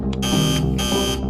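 A quiz-show buzzer sounds in two long, loud electronic blasts separated by a short gap, pressed by a contestant in a Bible quiz semi-final, with no talk over it.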